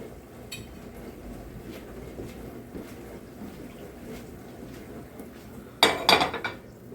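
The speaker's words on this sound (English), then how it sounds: "Let me get a plate." Plates and dishes clink together in a short burst near the end, loud and close against a quiet background, with no talk.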